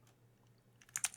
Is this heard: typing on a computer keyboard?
yes